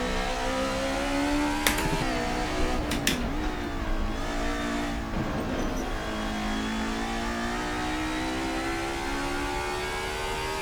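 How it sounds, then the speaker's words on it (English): A race car engine drones and shifts pitch through a curve in Assetto Corsa, a loud continuous whine with gear changes and tyre scrub as the car is unsettled. "Oh, that curve totally unsettled the vehicle."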